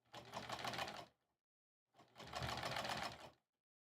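A sewing machine stitches fabric for an embroidery pillow cover in two steady, close bursts of rapid whirring, about a second and a half each, with a pause between them.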